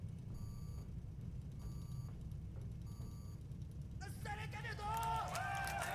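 An alarm in a video game keeps beeping in short repeated bursts over a low rumbling background, followed by a voice talking near the end.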